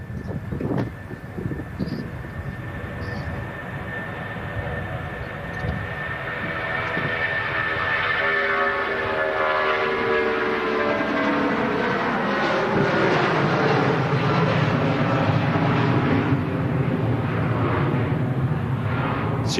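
A Jet2 Boeing 757 airliner begins its takeoff roll at Manchester Airport, engines swelling from a distant whine into a loud, sustained roar as it accelerates down the runway, with no voices.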